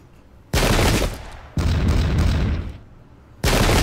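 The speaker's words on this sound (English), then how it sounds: "Of course, the cannons, of course." Cannons fire in a Pike & Shot video game battle as three heavy, booming blasts, each followed by a sustained rumbling roar that tails off before the next shot.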